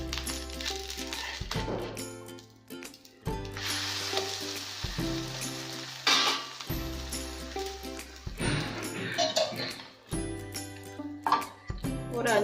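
Onion egg omelette frying in a pan, a soft continuous sizzle with faint clinks and scrapes of a utensil, heard alone at low volume without talk.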